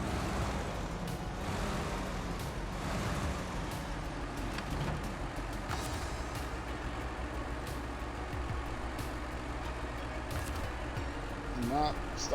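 A truck engine in the SnowRunner driving game runs steadily throughout as a low, continuous rumble, with a voice talking over it.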